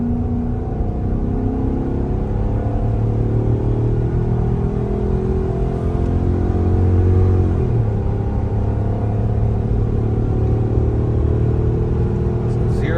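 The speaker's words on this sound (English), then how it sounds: "let's hop in Raymond's truck and get to towing. This will be our first 0 to 60 run." A gasoline pickup truck towing about 9,000 pounds accelerates from a standstill, its engine rumbling and droning steadily with a low, continuous roar and a shift partway through, heard from inside the cab.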